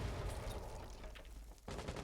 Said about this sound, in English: I think he's taking a little bit of gunfire.